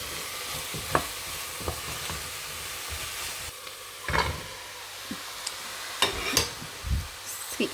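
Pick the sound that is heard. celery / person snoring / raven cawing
celery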